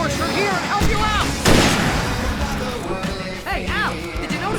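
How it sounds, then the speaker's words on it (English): Fireworks bursting in Alan Wake, sharp booming cracks amid game music and pitched effects, with a strong blast near the middle and rumbling aftermath; voices are heard. "I can set off more of the fireworks from here and help you out!"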